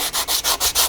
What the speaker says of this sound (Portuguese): Apenas lixar, não precisa lixar muito para não gastar a própria lona